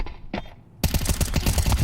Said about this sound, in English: Chell thinking about going for the wall bang